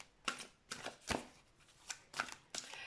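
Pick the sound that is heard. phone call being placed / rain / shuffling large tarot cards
shuffling large tarot cards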